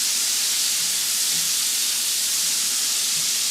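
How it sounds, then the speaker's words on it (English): Andouille sausage sizzles and browns in a pot, a steady close hiss of frying fat running without pause. "We're just tossing this sausage, moving it around. It's getting that really nice brown color."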